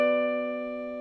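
A single guitar chord rings out clearly and alone, fretted with the pointer finger at the 14th fret of the A string and the ring finger at the 16th fret of the D string, sustaining and slowly fading.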